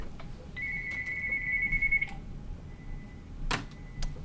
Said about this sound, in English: Of course, my phone goes off.